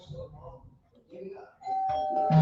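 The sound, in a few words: doorbell ringing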